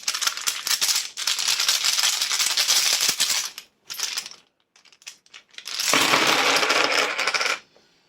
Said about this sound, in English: this can be really noisy, so if you're wearing headphones, I would probably suggest just taking them off whilst I'm drawing the runes